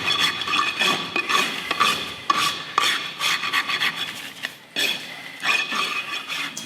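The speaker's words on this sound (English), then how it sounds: "really calmly and quietly trimming the excess hoof horn from the bottom of his foot" A farrier works a rasp across the excess horn on a mule's hoof, a steady run of scratchy, rhythmic strokes up close with a few short pauses between passes.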